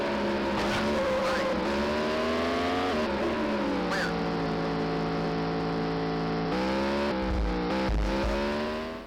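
A racing car engine in a late-1990s PC racing game drones continuously at high revs, its pitch shifting up and down with gear changes, with a brief squeal near the end.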